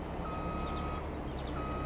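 Reversing beeps from a vehicle in Farming Simulator 22, a steady electronic warning tone repeating at a regular pulse over a low engine rumble and background game noise.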